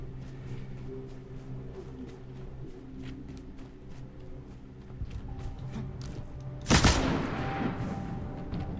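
Gunshots ring out in a video game, a faint distant rattle of shots under steady game ambience, then one loud, sharp close blast near the end followed by a lingering echo.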